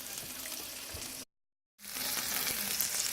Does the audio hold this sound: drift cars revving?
no